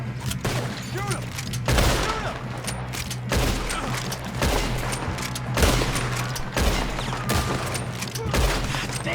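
Gunfire in Red Dead Redemption 2, with repeated heavy shots and booming blasts landing every second or two, loud and close over a constant low rumble of battle noise.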